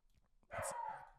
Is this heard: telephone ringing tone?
no